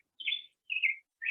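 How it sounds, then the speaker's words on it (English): Recorded song of the black-headed grosbeak: three clear, warbling whistled phrases in quick succession, bright and close, with silence between them. "So here is the song of the black-headed grosbeak."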